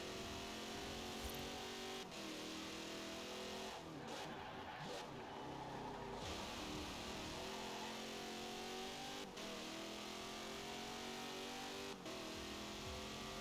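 Car engine in Forza Horizon 4 revving hard through a series of gear shifts, a loud, continuous buzzing drone broken by brief dips at each shift.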